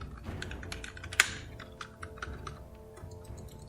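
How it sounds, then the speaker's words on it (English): Rapid close typing on a computer keyboard, with key clicks and mouse clicks clattering in a quick irregular patter, one sharper click standing out, over faint background game sound. "Clicking with the mouse, pressing all of the buttons on the keyboard."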